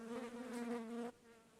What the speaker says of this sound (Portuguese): Até as moscas começaram a se juntar na porta, zumbindo sem parar